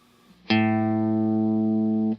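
A single open A string struck on a distorted electric guitar, ringing as one sustained, harmonically rich note for over a second before being cut off cleanly.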